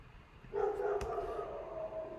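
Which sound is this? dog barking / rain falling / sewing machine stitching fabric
dog barking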